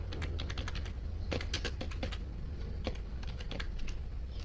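Rapid, uneven keystrokes on a computer keyboard while entering an employee's name into an Excel spreadsheet, crisp clicks in short bursts with brief pauses, close-up over a low steady hum.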